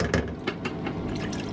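Water is poured into a cooking pot holding tinned tomatoes in a caravan kitchen, a close, gurgling, splashy fill that runs throughout.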